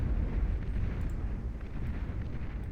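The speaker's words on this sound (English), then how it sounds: "this capital ship is offering a tremendous amount of support, blasting away at any forces that get too close" Heavy capital ship barrage in the strategy game Beyond All Reason, a dense continuous rumble of overlapping booming blasts and explosions during a large naval battle, loud and sustained with no clear gaps.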